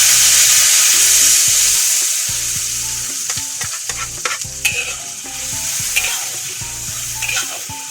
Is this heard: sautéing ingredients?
yes